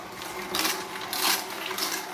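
A Tribest Slowstar slow juicer runs with a steady mechanical whir and grind. Squeaky, crackling pulses come as produce is pressed, with no talking.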